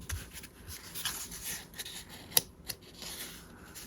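Scissors snip paper scraps while a small handmade booklet is trimmed, a few quiet close cuts and rustles with one sharper snip standing out, no talking.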